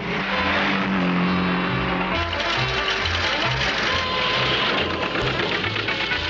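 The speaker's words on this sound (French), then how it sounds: "Cette voiture est un vrai bolide. Je vais la pousser au maximum." A powerful car engine revs and accelerates hard toward top speed on a road, a loud sustained drone with rising, shifting pitch and a throbbing low rumble, close and continuous with no pauses.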